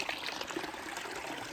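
Steady trickling, splashing stream water at Low Gap Shelter on the Appalachian Trail as feet soak in it, a constant faint wash with no voices.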